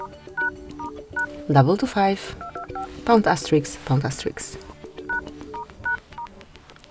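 A Motorola One 5G Ace keypad beeps out a secret dial code in short, evenly spaced dialing tones, with a nearby voice talking over part of the sequence.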